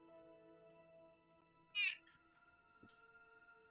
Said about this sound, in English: I apologize right now if Whinging Cat is picking up on the microphone